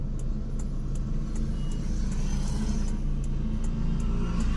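Road traffic crawling through a jam, with a continuous low rumble of idling car and truck engines and soft faint clicks above it. No voices are heard.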